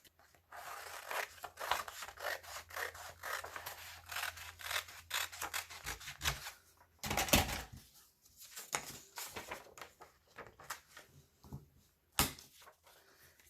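Paper being cut with scissors at home, a cash deposit slip trimmed out, giving repeated close rasping snips and crinkles in uneven bursts, with one louder crunch partway through and no talk.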